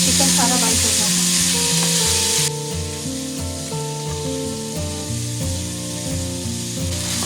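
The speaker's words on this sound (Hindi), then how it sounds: "मैं इसकी जस्ट इतनी देर फ्राई करूँगी जितनी देर में ये चिकन सारा वाइट हो जाएगा।" Chicken pieces frying in hot oil in a pan while being cooked for homemade pizza; a close sizzle runs under background music, loudest in the first couple of seconds, then softer and steady.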